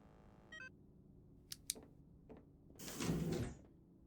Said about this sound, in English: Door is activated.